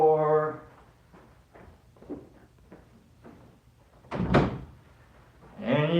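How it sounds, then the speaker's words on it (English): A door shuts with a single solid thunk near the middle, between faint shuffling handling sounds, with a voice briefly at the start and end. "Shut the door."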